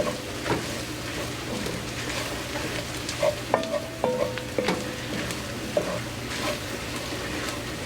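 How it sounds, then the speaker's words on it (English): Spices and chili powder sizzling and frying in a pot for home-style chili, a steady soft crackle with intermittent stirring scrapes and light metallic clinks of a spoon against the pot. "So you want these spices to cook a bit."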